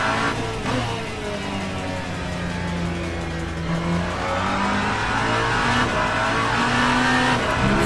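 A hypercar engine revs hard at near full throttle in second gear in a racing video game, a loud continuous roar rising and falling in pitch with a brief tire squeal, no talk.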